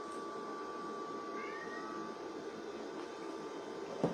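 A cat meows a few times indoors, short rising calls faint under a steady background hum, with no one talking.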